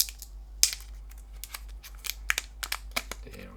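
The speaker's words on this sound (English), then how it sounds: "We have to take off all of these foils to open it." Protective plastic foil is peeled and crinkled off a new Redmi Watch 4, a series of quiet sharp crackles and tearing rustles at close range in a still room, with no talking.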